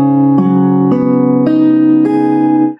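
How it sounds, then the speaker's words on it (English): Guitar strings with a capo on the fourth fret sound in a quick sequence of five ringing notes at a raised pitch, close and clear, fading at the end. "I put my capo on the fourth fret, now they're going to sound like this."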